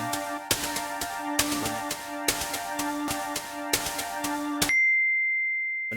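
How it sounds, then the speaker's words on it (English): Notification ding triggered from an Ableton clip: a bright bell tone struck about seven times in a steady rhythm, then one final ding left to ring out clearly on its own. "I want the message, the notification to ring by itself"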